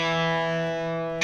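A distorted electric guitar sustains a single bright note on the A string, part of a guitar solo, ringing loud and close for about a second before a brief noisy burst at the end.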